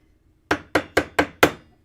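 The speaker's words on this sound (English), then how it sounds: "I'm just going to hammer it down with my leather mallet" A leather mallet pounds sheet metal wrapped around a dowel rod: five sharp, evenly spaced blows in quick succession, close and loud, with silence before and no voices.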